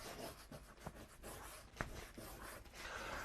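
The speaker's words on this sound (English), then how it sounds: "Let me write it." Chalk or marker scratches across a classroom board during an ecology lesson, a run of soft uneven strokes with a couple of sharper taps, faint and close, with no talking.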